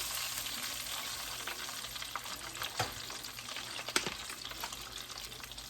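Catfish fries in a pot of hot oil with a steady, close, dense sizzle and crackle, broken by a few sharper pops and spits, and no talking.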